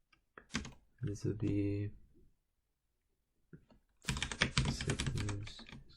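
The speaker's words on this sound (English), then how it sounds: "Let me just type it down." Quick bursts of computer keyboard typing, with a short run of key clicks early on and a longer, denser flurry later, interleaved with someone talking.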